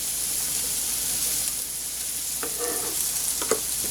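Onions coated in cumin fry in a pan with a steady broadband sizzle, broken by a few brief scraping stirs near the end; no voices.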